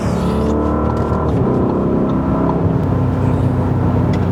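A 2020 Audi RSQ8 SUV in RS1 race mode on air suspension takes a corner, its engine a loud, steady low drone heard from inside the cabin, with no voices.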